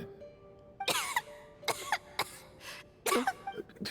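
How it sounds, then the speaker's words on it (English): A video game character coughs in a series of harsh, separate bursts, about five or six rough coughs with short pauses between them, heard close and fairly quiet over a faint steady background tone. "How long have you had that cough, Tonya?"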